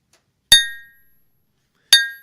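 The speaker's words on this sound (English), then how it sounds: "you hear the sharp clink of a mallet on metal" Two sharp, ringing metallic clinks of a mallet striking metal nails during a crucifixion, spaced well apart, each bright strike decaying slowly into silence.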